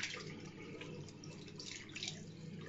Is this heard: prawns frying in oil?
no